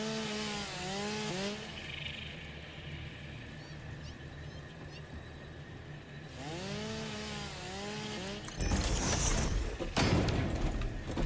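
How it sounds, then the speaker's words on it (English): Chainsaw cutting down trees in the video game Satisfactory, a steady buzzing drone running in long stretches with a louder, harsher burst near the end, alongside some higher whine-like tones. "You want to use that chainsaw and take out some of those trees that are clipping through my nice floor?"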